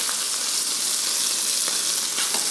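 Chicken pieces pan-frying for adobo, giving a steady close sizzle of hot oil throughout with a few brief crackles and pops and no talking.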